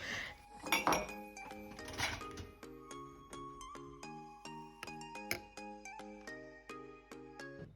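Dishes, pots and cutlery clink and ring as they are lifted out of a kitchen appliance, with a clatter of several bright metallic and ceramic chimes early, then repeated ringing tones.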